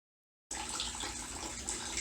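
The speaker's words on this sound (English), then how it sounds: "And the radiator draining." Coolant pours from a C6 Corvette radiator into a bucket, a steady close splashing trickle that starts abruptly after a brief silence and runs on alone.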